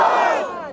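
A large crowd at a political rally shouts a slogan in unison, one loud sustained chorus of voices that fades away.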